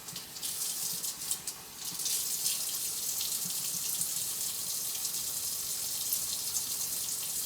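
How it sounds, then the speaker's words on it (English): Tap water runs steadily into a sink to wet cake strips, a close, continuous splashing stream that briefly dips near the start before flowing evenly to the end. "We're gonna get out our cake strips and we're gonna wet them"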